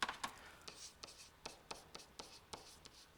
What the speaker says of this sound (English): Let me see if I can write this more neatly.